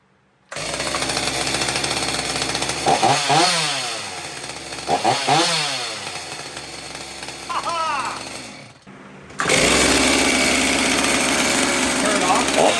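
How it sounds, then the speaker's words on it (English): A STIHL MS390 chainsaw runs loud and steady, revving up and down in several swells, then cuts out briefly before roaring back at full throttle; voices talk over the engine. "we got a saw that runs"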